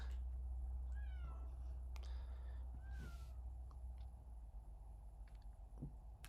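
A house cat meows faintly a couple of times from some distance, thin, rising calls over a steady low hum and room noise.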